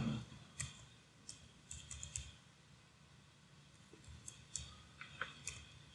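A password is typed on a computer keyboard: quiet, irregular key clicks come in short bursts with pauses between them, close by and faint in an otherwise still room.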